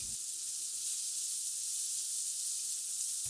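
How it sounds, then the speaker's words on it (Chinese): Onion, ginger and garlic frying in oil in a pan give a steady, close, bright sizzle that holds evenly throughout, alone without talk. "就着这个锅加入适量的油，先把洋葱煸香"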